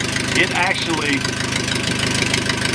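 A 4A084 aircraft engine runs loud and close on a test platform with a dense, steady roar, while someone speaks over it.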